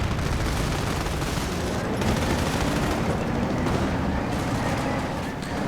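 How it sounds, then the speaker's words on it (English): Sustained machine gun fire rattles through a real-time strategy battle, dense overlapping bursts and distant booms forming a loud continuous wall of combat noise with no gaps. "MGs actually managed to do quite a bit of damage to those heavy machine gun teams"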